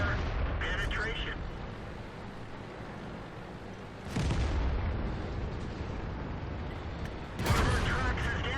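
Tank cannon shots and shell impacts during a World of Tanks clan platoon battle: two sharp, loud broadband blasts a few seconds apart, one near the middle and one toward the end, over a constant rumbling engine and battle bed, with a voice speaking.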